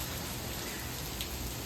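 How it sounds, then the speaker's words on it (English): Rain falling outside a home garden on a damp day, a steady even hiss of drops without a break, close and fairly loud. "But now it's raining."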